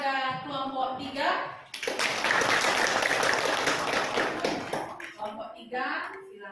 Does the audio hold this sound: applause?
yes